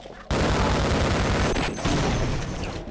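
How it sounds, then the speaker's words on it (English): Sustained automatic gunfire in the video game Half-Life, a dense loud burst of rapid shots running almost three seconds after a short quiet lead-in. "Now I'm using this gun, which I did not mean to use."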